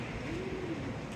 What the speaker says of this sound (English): Very vocal pigeon up there wants to say hello.